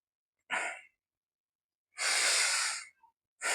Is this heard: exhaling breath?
yes